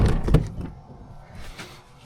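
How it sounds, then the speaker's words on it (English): A door on a homemade flight simulator built from a real airplane fuselage shuts with a couple of close, heavy thuds, followed by faint rattling and quiet room noise. "Gotta close the door."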